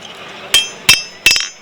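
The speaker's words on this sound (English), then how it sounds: "hammering it on the forge" Blacksmith's hammer striking metal on a forge at a vintage day event, three sharp ringing clanks spaced about a third of a second apart, close and loud over a quiet background.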